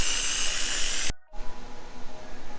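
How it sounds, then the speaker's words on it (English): A handheld steamer blasting onto leather car seats, a loud steady close hiss that cuts off abruptly, followed by a quieter rustling background. "We're just steaming away."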